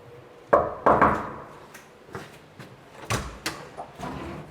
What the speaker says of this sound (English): Let's give it a knock and see if they're in.